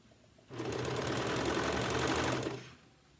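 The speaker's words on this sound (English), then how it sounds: "we're going to sew this edge together. So put that on the serger." A serger stitches a circle skirt's waistband seam in one fast, steady burst of about two seconds, a close, loud mechanical buzz with rapid clicking, starting and stopping abruptly.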